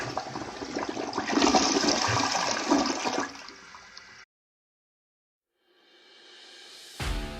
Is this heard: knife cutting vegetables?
no